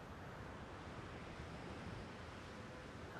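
Ocean waves below a rooftop form a steady, faint roar of surf, like continuous wash with no distinct breaks, heard alone without voices.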